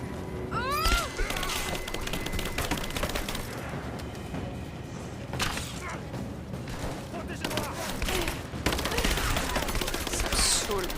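Gunfire in the video game Rise of the Tomb Raider, rapid bursts and scattered shots cracking through the action, loud and close, with a player talking over much of it.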